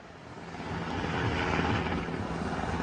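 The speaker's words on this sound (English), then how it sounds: "shows a Mexican Army helicopter flying over a resort" A Mexican Army helicopter passes over a beach resort, its engine and rotor noise a steady, loud, broadband roar that swells slightly midway and holds throughout.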